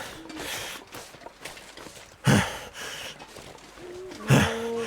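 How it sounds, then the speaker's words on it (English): A character panting while trudging through a snowy wilderness in The Long Dark, heavy rhythmic breaths with two sharper gasping bursts, close and prominent over a low ambient bed. "Oh, quit the panting."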